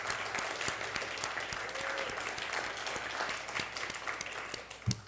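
A big round of applause for volunteers at a candidate forum: sustained, dense clapping from a crowd throughout, fairly distant and even, with a louder burst near the end.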